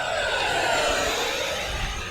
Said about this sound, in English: let's do one more full throttle pass down the runway